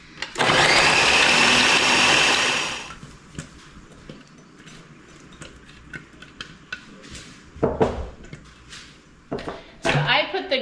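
A food processor with its grater attachment shreds pepper jack cheese for about three seconds, loud and steady, then stops. Quieter kitchen clatter and a few brief voices follow.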